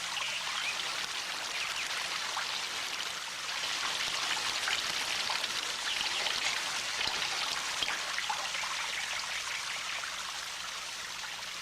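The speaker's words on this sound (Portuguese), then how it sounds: "a água sai pelos buraquinhos como em um chuveiro" Water pours out through small holes in a jar like a shower spray, a steady splashing trickle that stays continuous and close throughout, with no talk.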